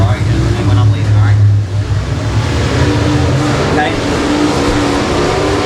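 A race car at a speedway restart, its engine roaring loudly as it accelerates, mixed with a crowd of other cars, while a commentator talks over the din.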